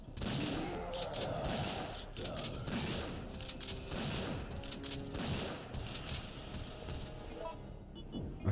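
Shotgun blasts fired at Nemesis in Resident Evil 3, a dense run of heavy booming shots and mechanical clatter mixed with game sounds, with someone talking over much of it.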